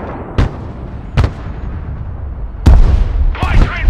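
Gunfire and artillery in the video game Broken Arrow: four sharp blasts at irregular intervals, the last two close together and loud, over a steady low rumble of battle.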